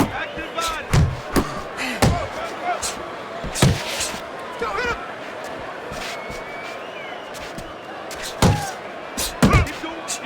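Punches thud home in a Fight Night Champion boxing bout between George Foreman and Sonny Liston, several sharp impacts scattered irregularly over a steady crowd roar.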